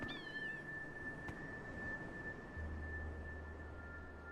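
Small ular creature in the game Dreamfall Chapters gives a few quick, high, wavering kitten-like mews at the start, over a steady electronic tone and a low ambient hum.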